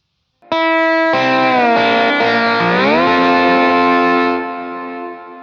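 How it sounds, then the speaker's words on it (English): A slide guitar note struck on the B string at the 10th fret rings out with distortion and chorus, bending and sliding in pitch as it sustains for several seconds, then slowly fades. "we're going to strike the B string at the 10th fret"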